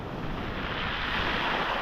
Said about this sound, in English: as the waves roll in and out, you can actually hear the pebbles rolling